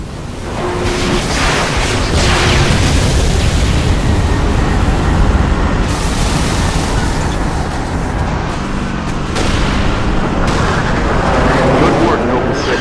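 An air support bombing run in the video game Halo Reach sets off heavy, booming explosions and rumbling blasts that run loud and continuous, with a voice faintly underneath.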